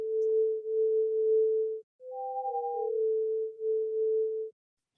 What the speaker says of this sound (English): I will play separately as a sonification